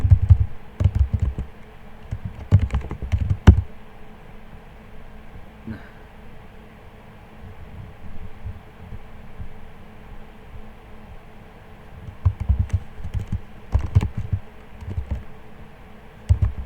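Typing on a computer keyboard while editing in Vim: quick bursts of close, light key clicks at the start and again near the end, separated by a long quiet stretch of faint background hiss.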